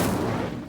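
Incendio, the fire spell in Hogwarts Legacy, goes off as one short, loud burst, a whooshing blast that fades quickly, with no voices.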